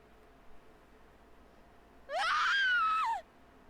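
A single high, wavering scream from a character in the video game Dragon Quest XI bursts out for about a second over quiet background sound.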